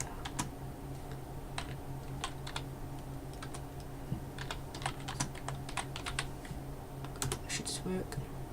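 Fingers typing a command on a computer keyboard, a continuous run of quick close key clicks with irregular pauses and a few sharper taps.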